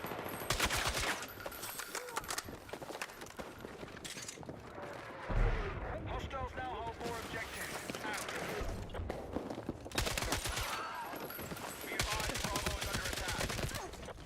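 Rapid bursts of automatic gunfire in the video game Battlefield 6 crackle loudly in dense volleys, broken by short pauses, with players talking over the shooting.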